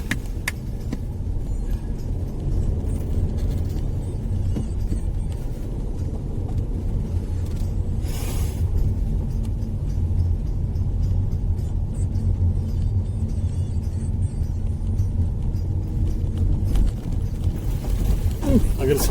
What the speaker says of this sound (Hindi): ये देखिए अब चढ़ रही है गाड़ी हमारी पहाड़ के